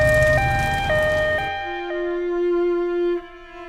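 A fire engine siren wails loud and close at a house fire, its two-tone cycling for about a second and a half before sliding into a steady long tone that holds, then cuts off near the end.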